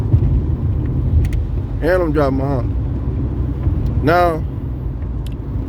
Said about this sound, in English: And I'm driving my Honda.